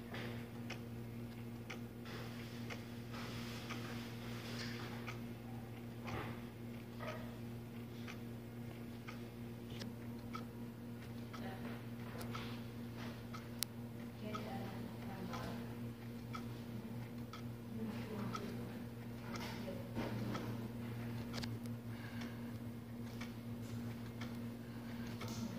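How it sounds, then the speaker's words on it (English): Four mechanical clocks tick together indoors, a faint, close, overlapping pattern of small regular clicks over a low steady hum. "Each clock tick."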